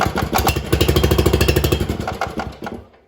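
A Troybilt TB30R riding mower is cranked to start, giving a fast, regular chugging pulse that is loud and close. It runs for about three seconds before cutting off abruptly.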